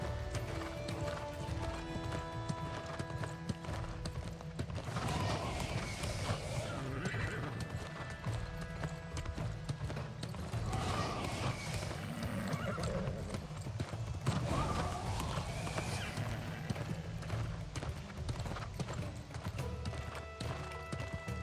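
A horse gallops with steady hoofbeats and occasional whinnies in the fantasy game New World: Aeternum, continuous and fairly loud over game music.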